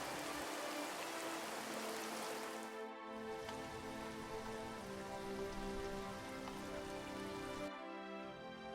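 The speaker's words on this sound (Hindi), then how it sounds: "ऐसे ही एक साल भारी बारिश हुई।" Heavy rain pours down steadily as a cartoon sound effect, a dense continuous hiss of drops on surfaces. A short drop near three seconds breaks it before it resumes, with no voices.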